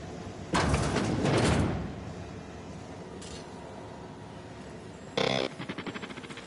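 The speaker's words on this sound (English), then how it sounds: "I'll get the door." A sliding door in the sci-fi video game The Outer Worlds opens with a loud mechanical whoosh, then a second shorter hiss followed by a rapid run of soft clicks.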